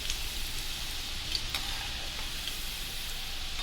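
Small raw mangoes heat in a pan for pickle, giving a steady, close sizzle and crackle that runs evenly throughout with a few brief stirring taps.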